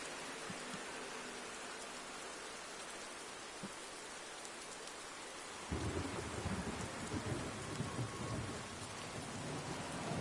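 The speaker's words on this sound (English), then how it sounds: "We're in the night, and we have the rain." Steady rain pours through a nighttime Nürburgring race in Project CARS 2, an FIA GT3 round, with a low thunder rumble swelling in near the midpoint and the downpour growing heavier and louder afterward; no one speaks.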